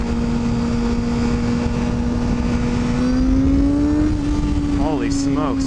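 A motorcycle pulls hard in second gear after a new sprocket was fitted, its engine drone loud and continuous and climbing in pitch, with wind roar close to the rider.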